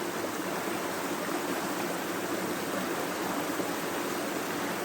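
Water flows in a steady broadband rush like a stream or small waterfall, even and unbroken throughout, with no voices.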